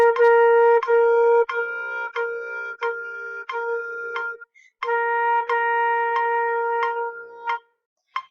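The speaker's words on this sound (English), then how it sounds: "put my metronome on, it will sound like this." A metronome ticks at an even, moderate tempo, its sharp regular clicks sounding alongside a sustained G note repeated on a beginning band instrument, with a short break partway through.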